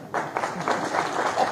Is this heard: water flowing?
no